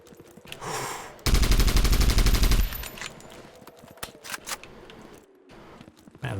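Rapid automatic gunfire from a video game weapon, a loud dense burst lasting over a second, followed by scattered softer shots and clatter.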